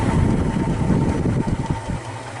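A Maxant honey extractor spins frames to fling out honey, giving a steady, fairly loud mechanical hum and rumble with a faint rhythmic wobble throughout.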